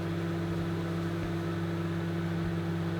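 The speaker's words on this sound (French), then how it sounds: "je vais mettre le truc du micro-ondes, et on va faire chauffer" A microwave oven runs at full 900-watt power heating a gratin, a steady electrical hum with a constant low drone and fan whir, unbroken and close.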